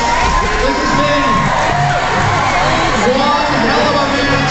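A crowd roars continuously at a 2008 WFTDA roller derby bout in Tucson between the Saddletramps and the Texas Rollergirls, with loud sustained cheering, whoops and shouts and an amplified voice talking underneath.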